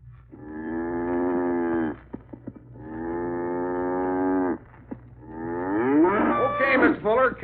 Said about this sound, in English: Mr. Fuller, cow's bedded down for the night.